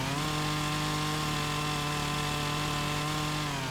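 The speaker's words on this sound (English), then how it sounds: "it's a cheating mod that allows you to remove stumps with a good old chainsaw" A chainsaw runs at a steady high rev while cutting out tree stumps in a farming simulator game, forming a constant loud buzzing drone with no breaks and no talking.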